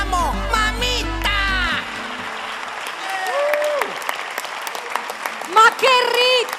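Audience applause for a singer at a televised singing show, a steady crowd clapping throughout while a host's voice and other sounds ring out over it.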